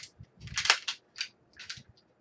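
A pistol slide being racked to check the chamber: a quick series of crisp metallic clacks and scrapes, close and clear, with no talk over them.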